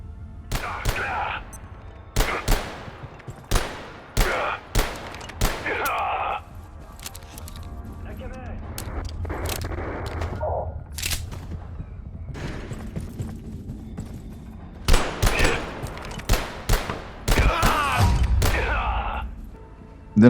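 Sharp gunshots crack in a video game, coming singly and in short bursts with gaps between them, loud and near, mixed with other game sounds and a bleating animal.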